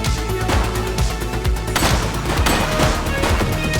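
Rapid bursts of gunfire from a police shootout in The Precinct video game, a dense fusillade of overlapping shots and booms that runs loud and continuous the whole time, with no talk.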